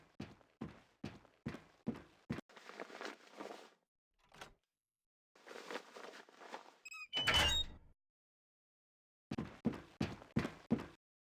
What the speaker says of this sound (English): Now, left-click on the door to open it, and walk through the open door to Training Station 4.